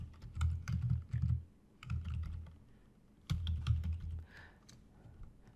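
Bursts of typing on a computer keyboard, close clicky keystrokes in uneven clusters with short pauses between them, no voices.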